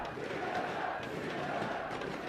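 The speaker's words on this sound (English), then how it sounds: "Crowd chanting, pumping up SoloMid" An arena crowd at an IPL 4 esports tournament in Las Vegas chants to pump up Team SoloMid, a steady, far-off roar of many voices sustained throughout at moderate level.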